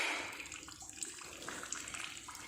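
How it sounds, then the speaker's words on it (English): Water flows steadily from a model dam through a reservoir toward a small turbine at a science exhibition, a faint, continuous trickling and rushing hiss with no talk. "The water stored in the dam will flow through the reservoir to the turbine"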